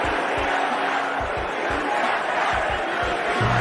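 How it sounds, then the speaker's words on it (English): A large wrestling arena crowd roars with sustained booing aimed at Liv Morgan, a dense continuous wall of voices with rhythmic stomping or clapping underneath. "Booing Liv Morgan."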